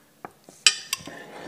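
Metal spoon scraping and scooping seeds out of a cut Austrian pumpkin, a few soft scrapes followed by sharper clinks against the rind, close and quiet with no talk.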